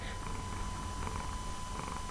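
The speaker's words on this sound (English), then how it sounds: "Can y'all hear him purring?" A pet cat purrs close up in a steady, low rumbling drone that pulses gently and continues throughout.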